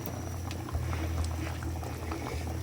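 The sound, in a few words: fish bone soup boiling in a pot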